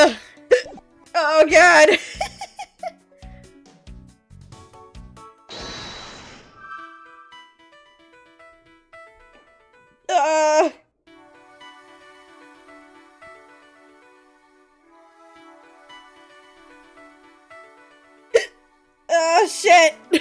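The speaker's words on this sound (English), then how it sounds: "I have the hiccups." A person hiccups several times, short sharp vocal jolts spaced seconds apart, with a muttered exclamation, over a quiet backdrop of soft music and game sounds.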